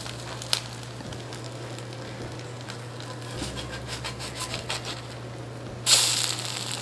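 Eggs sizzle in rings in a frying pan with a steady low crackle and hiss, close by, and a sharper burst of sizzling near the end.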